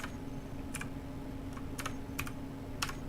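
Someone types on a computer keyboard while playing Space Engineers: about half a dozen crisp, scattered key clicks over a low, steady background hum.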